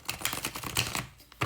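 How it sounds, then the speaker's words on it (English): Tarot cards being shuffled, a close, dry run of rapid papery riffles and taps in uneven bursts with a sharper slap near the end. "This is the fourth shuffle"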